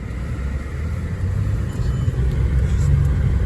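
A 2009 Mercedes-Benz E350 4Matic with 128,000 miles pulls away under acceleration on a test drive, its steady low engine and road rumble swelling slightly louder partway through, heard from inside the cabin with no talking.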